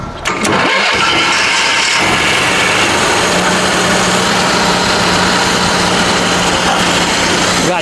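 An Onan Marquis 7000 generator engine, carburetor just refitted, cranks briefly and fires, then settles into a loud, steady running drone with a constant hum and no talk.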